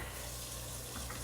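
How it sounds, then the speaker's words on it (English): Tap water runs steadily into a kitchen sink for hand washing, a continuous close hiss and splash with no break. "I am going to wash my hands"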